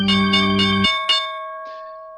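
A stock market opening bell rings loud and close as a rapid run of metallic strikes, stops abruptly, and leaves one last clang that hangs and slowly fades. No one speaks.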